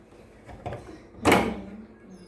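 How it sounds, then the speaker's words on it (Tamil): A door swings open with a single short burst of rattle and scrape, preceded by a couple of fainter knocks, then quiet. "கதவு திறந்து விடுங்க"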